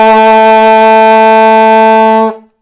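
A single long low F sharp is held on an alto saxophone. It is loud, steady and reedy, lasts a little over two seconds, then cuts off into silence.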